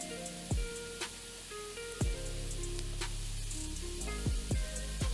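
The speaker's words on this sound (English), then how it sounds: "Saute garlic in butter and oil for 1 minute till it's nice and toasty." Garlic sautéing in butter and oil for pepper garlic rice, a constant close sizzle with occasional sharp pops and crackles over a low background hum.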